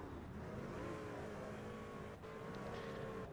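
A NASCAR stock car, the Grand Home Furnishings number 3, rolls off pit road at Dover with a loud, steady engine drone, its tone shifting slightly and dipping briefly near the end, with no talk.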